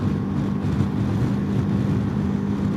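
Wind roars steadily against a motorcycle riding fast on a California highway on the way to San Francisco, a loud, constant low buffeting with no break.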